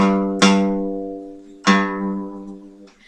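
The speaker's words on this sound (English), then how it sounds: "it should sound like this on the 3rd on the E" Guitar note fretted properly at the third fret of the low E string, plucked twice, each pluck ringing clearly with rich sustained harmonics that fade gradually, close and fairly loud with no talking.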